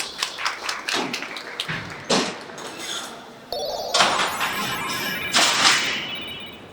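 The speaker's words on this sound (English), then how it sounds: "I'm going to operate the doors a few more times" Cell doors inside Alcatraz prison in San Francisco being operated, a series of loud metallic taps and clunks followed by heavy sliding rumbles and slams echoing through the cellblock, with no talk.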